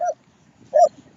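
A dog gives two short, close barks or yips, the second stronger, with near silence between them.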